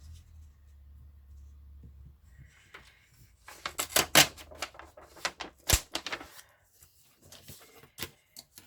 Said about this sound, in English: we'll get the tear ruler out. I'm just going to tear off these edges